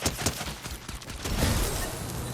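Rapid bursts of gunfire in the video game Fortnite, a dense, continuous crackle of shots that swells louder in the second half, with no talk over it.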